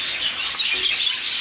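Birds in nesting stacks chirp and tweet in a busy, overlapping chorus of high, quick calls close by, with no voices.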